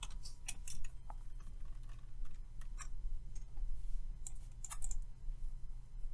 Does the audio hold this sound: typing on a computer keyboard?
yes